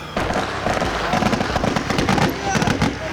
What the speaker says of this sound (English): It's like they're firing over there now.